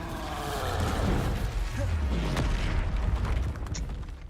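In the video game Hogwarts Legacy, the Incendio fire spell bursts out with a low, rumbling whoosh that swells and sustains for a few seconds, fairly faint beneath the game's ambient sound.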